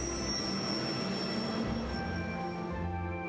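A passenger train arriving at a platform in Trails of Cold Steel, a steady rumbling drone with high, sustained wheel squeal tones gradually fading.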